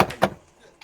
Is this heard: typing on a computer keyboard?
no